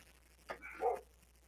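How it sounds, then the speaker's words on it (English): Dogs bark at home, where one starts and the others join in: one short yip followed by a louder, longer bark, faint and somewhat distant, over a quiet room. "The dogs are going ballistic."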